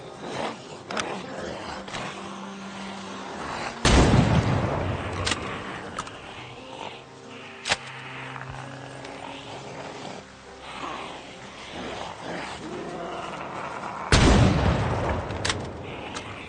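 Shotgun blasts in the zombie survival game Project Zomboid: two sharp, heavy booms about ten seconds apart over constant background game noise, with scattered faint clicks and small impacts between them.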